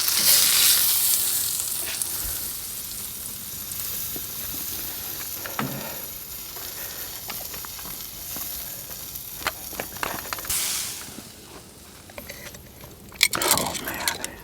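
Steak sizzles steadily on a Masterbuilt lump-charcoal griddle fitted with a shroud, a continuous crackling hiss with occasional pops and scraping clicks near the end.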